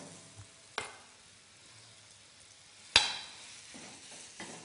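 Minced meat frying with sliced onion in a pan gives a faint steady sizzle, broken by two sharp utensil knocks against the pan and a softer scrape near the end.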